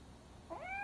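A cat in the Robocop Rogue City video game meows once, a rising, mid-loudness cry that comes in near the end over a low, hushed background.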